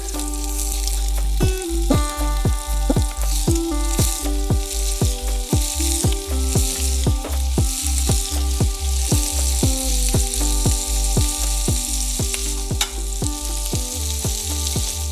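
Meatballs frying in oil in a pan for spaghetti and meatballs, a loud continuous sizzle with rhythmic scraping knocks of a utensil stirring and turning them, close and busy throughout.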